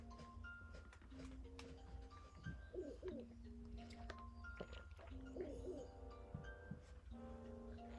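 Owl hoots from a video game, two short hooting calls rising over a steady musical soundtrack with layered tones and soft chimes, no talking.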